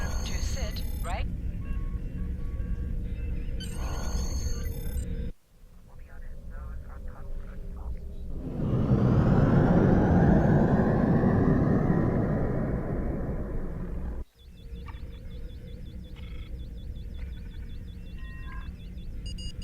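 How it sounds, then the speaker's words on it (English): Starship thrusters in Star Trek Online rumble as the ship pulls out of dry dock, a loud, broad roar swelling for several seconds between stretches of voices. "Potter, take us out. Maximum thrusters."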